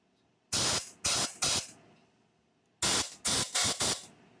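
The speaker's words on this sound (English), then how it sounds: "Just kind of go through and just keep spraying because it's very important." Aerosol cleaner spraying through a port of a 2007 Kia Spectra EX cylinder head during a rebuild, close and loud, in three short bursts followed by a pause and then four more rapid hissing blasts.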